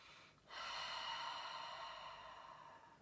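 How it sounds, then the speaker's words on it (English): A single long, audible exhale at the close of a guided meditation, a soft airy rush that begins half a second in and fades slowly, quiet and close with no talking. "Taking a deep breath in and out."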